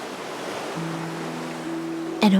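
Ocean waves wash in a steady broadband rush, set against a sustained tonal drone within the Honkai: Star Rail game world, ending in a brief brighter swell.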